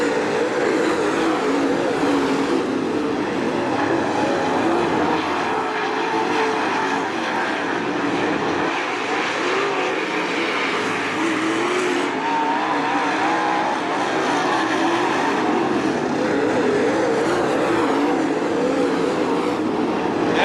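Sprint cars roaring steadily through a dirt-track heat race at Attica Raceway Park, a dense sustained engine drone from several cars at once, loud and continuous without letup.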